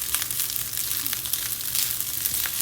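Seafood rice fries in a pan with a steady, close, hissing sizzle and fine crackles, no talk over it.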